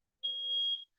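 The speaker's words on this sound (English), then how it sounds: "My baby's got my motherfucking smoke detector going." A smoke detector gives a single, piercing high beep of just over half a second, sharp and clear against near silence.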